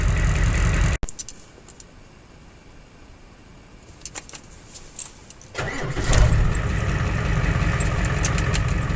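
A 7.3 IDI diesel engine, recently given a new positive battery cable, cranks briefly after a sharp click, then catches and settles into a steady loud idle rumble in cold conditions.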